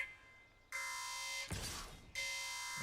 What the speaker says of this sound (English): the alarm has been sounded